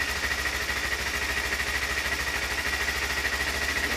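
Kawasaki Ninja 2015 motorcycle engine idling with the choke on, a steady close, loud low-pitched rumble with a fast even pulse and a high whine, no voices.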